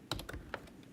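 Several quick, quiet keystrokes on a computer keyboard, typed at close range as a short command is entered at a terminal, with small irregular gaps between the taps.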